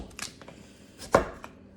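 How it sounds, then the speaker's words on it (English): A knife slicing through a hard sweet potato on a cutting board, a few light taps followed by one loud, firm chop, close up with no talking. "Then I'm gonna do little slices, then little quarters."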